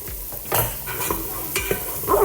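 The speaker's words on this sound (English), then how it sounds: "I'm gonna add in the garlic." Chopped garlic sizzles in a hot pan for homemade lasagna sauce, with several close stirring scrapes cutting through a steady frying hiss and no talking.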